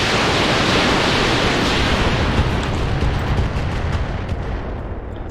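Heat missiles fire in the mech combat game RogueTech, a loud, continuous roaring wash of launch and blast noise that runs without a break and eases off slightly toward the end.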